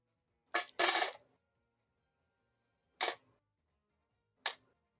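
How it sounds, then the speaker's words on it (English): Dice roll during a tabletop Dungeons & Dragons-style game, with ten rolled in turn: a few short, sharp clattering bursts separated by silence, close and fairly quiet. "That's 10 dice I gotta roll."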